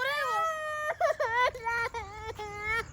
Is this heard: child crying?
yes